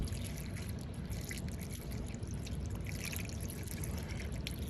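Radiator flush liquid pours steadily into a car radiator, a soft continuous trickling and gurgling that is faint against low background rumble.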